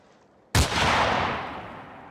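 A single loud gunshot rings out from the video game Fallout 4, a sudden sharp blast followed by a long rolling echo that slowly fades, heard alone without talk.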